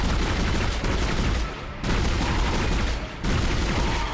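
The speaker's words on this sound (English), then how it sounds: "If you're firing in bursts, then you can do some real damage with it." A weapon in the sci-fi horror game Dead Space fires in loud, dense bursts, a continuous rattling barrage with two brief pauses between volleys, close and harsh.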